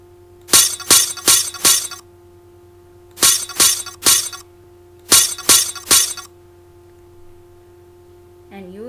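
Glass tile magic tool effect in Tux Paint: three bursts of four bright, crisp glassy clinks each, evenly spaced and loud over a faint steady hum, with no talking.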